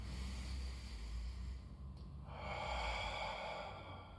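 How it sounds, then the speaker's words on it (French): A steady, breathy exhale during a Pilates exercise, a soft airy rush that swells in the second half and holds close to the microphone, with no talking. "Et j'expire."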